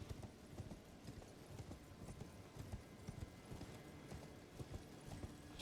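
Horse hooves clip-clopping steadily in the video game Elden Ring while riding, a continuous rhythmic trot of soft thuds under a low ambient bed, fairly faint, with no talking.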